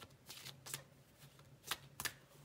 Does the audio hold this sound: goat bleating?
no